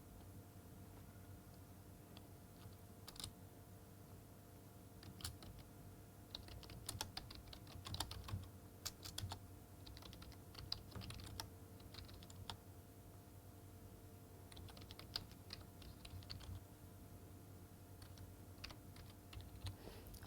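Fairly quiet computer keyboard typing as an assignment question is entered, with irregular bursts of keystrokes and brief pauses over a low steady hum, no voices.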